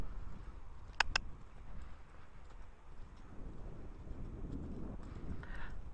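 Horse Bella's hooves cantering on the ground, a soft rhythmic drumming under faint wind, with a couple of sharp clicks near the start; quiet and somewhat distant.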